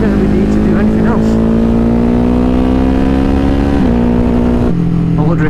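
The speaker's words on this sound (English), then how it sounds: "Just sit in this rev range of third gear and just on and off the throttle" A Ducati HyperMotard 950 SP motorcycle engine holds a steady rev range in third gear, loud and close, with a continuous droning note that dips slightly as the throttle comes on and off.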